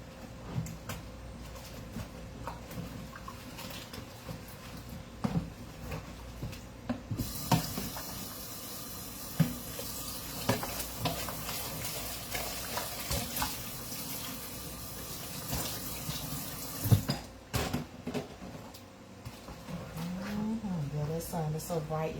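A tap runs into a sink while a few dishes get washed by hand. The water gushes loudly for several seconds, then stops, with soft clinks and household noise before and after.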